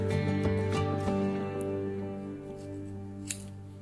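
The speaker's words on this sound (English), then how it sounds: "I'm going to cut below where I create that knot" Scissors snip through yarn just below a tied knot while making yarn loc hair extensions, a few short close cuts over a steady low hum of background music.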